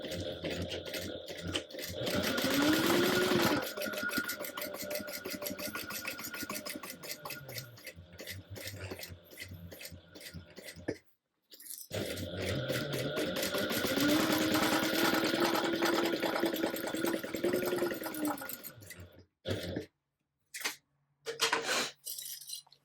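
A sewing machine bastes clipped fabric pieces together, running in two long steady bursts of whirring motor and rhythmic needle clatter, with a short pause between them and brief handling clicks at the end.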